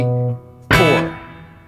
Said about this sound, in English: and then releasing to play the open D string, plucking with the index finger like that